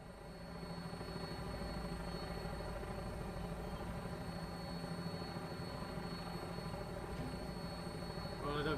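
A steady, loud aircraft engine drones as the craft flies on final approach to an airport in the video game Fallout 4, a constant roar with tonal whine and no speech.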